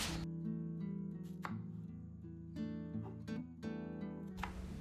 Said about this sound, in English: I moved to chopping my onions and my bell peppers